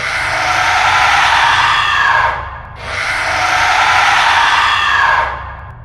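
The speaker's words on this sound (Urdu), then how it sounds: "جیسے ہی سورہ بقرہ کی تلاوت شروع ہوئی، پورے گھر میں چیخیں گونجنے لگیں" Two long, loud, piercing screams echo through a house during a recitation of Surah Baqarah, each held for over two seconds with a short break between them.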